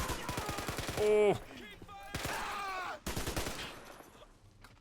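Dense rattling gunfire and bursts of automatic weapons from the Men of War Assault Squad battle at Mont Saint-Michel, loud and continuous with explosive cracks, and a man briefly exclaims over it.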